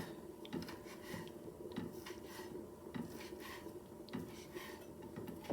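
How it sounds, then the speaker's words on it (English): A knife chops pork pulled from salt pork on a cutting board, steady quiet thuds roughly every half second, with faint scraping between strokes. "And I'll just chop it up."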